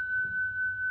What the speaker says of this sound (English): let me ring the bell and maybe calm down your mind